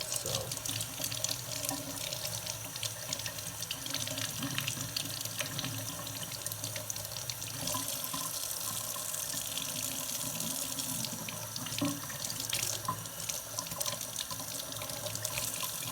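Tap water runs steadily from a faucet into a sink, rinsing gel off a plant's roots, a continuous close splashing stream with small shifts in flow and no talking.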